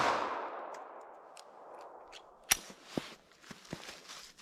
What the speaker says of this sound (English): One more shot here.